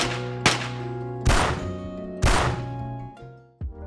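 Gunshots from the final version of the 10mm pistol in Fallout 3: three loud, sharp shots spaced about a second apart, each with a ringing metallic tail over a steady low hum, then a softer thud at the end.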